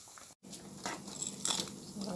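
Jamaican saltfish fritters crisping to golden brown in hot oil, giving a steady close sizzle and crackle with brief pops and bursts, cut by a momentary dropout early on.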